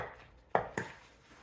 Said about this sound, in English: my fancy trick for mashing bananas is to just use a potato masher